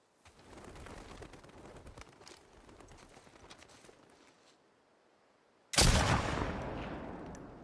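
Gunfire from the video game The Last of Us Part 2 Remastered cracks out as one sudden loud blast that rings on, following a stretch of scattered rustling and low ambient noise.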